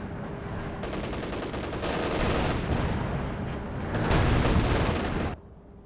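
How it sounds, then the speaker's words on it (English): Machine-gun fire rattles in loud sustained bursts in a Company of Heroes 2 match, separated by brief lulls, with the dense automatic clatter swelling near the end before cutting off sharply. "Machine gun comes out to cap."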